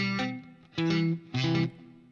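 Acoustic-electric guitar chord strummed three times with the fretting fingers placed too far behind the frets, so each strum comes out buzzy and dull. The strums are spaced apart and close up, with no talking.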